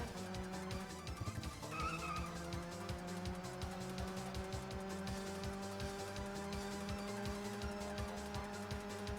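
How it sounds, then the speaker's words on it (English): A minivan in the GT Cube racing game skids through a turn, a sustained engine drone with tires squealing over a steady rhythmic hum, loud and continuous throughout. "this minivan sucks at turning"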